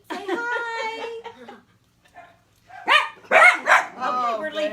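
A litter of puppies lets out high yips and barks, close by and in short bursts with gaps between, mixed with laughter and voices.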